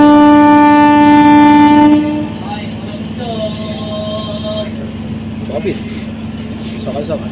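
Haldia Fast passenger train at Mecheda station: a loud sustained horn-like tone for about two seconds, then a steady rumbling run with faint voices in the background.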